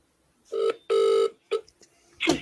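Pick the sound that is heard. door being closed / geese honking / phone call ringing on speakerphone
phone call ringing on speakerphone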